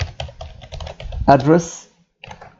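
Rapid clicking keystrokes on a computer keyboard as an IP helper address command is entered for DHCP server setup in a networking lab, then a voice talks as the tapping stops, with a few more key taps at the end.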